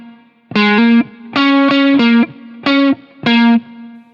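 Clean electric guitar notes on the G string at the 6th fret, struck in short paired hits with a slight shuffle feel, about five bursts with gaps between, close and alone with no voices.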